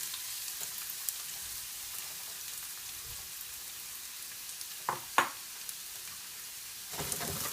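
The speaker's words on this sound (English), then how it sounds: "We saute the onions well." Finely chopped onions sauteing in a pan over a moderate flame, with garlic and cumin nearby, give a steady, soft sizzling hiss throughout, broken by a few brief louder crackles and stirring scrapes.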